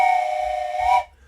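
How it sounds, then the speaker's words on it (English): A single steady train whistle from the railway simulation game OpenTTD, a loud held tone lasting about a second before stopping cleanly. "Thomas has asked for a train whistle."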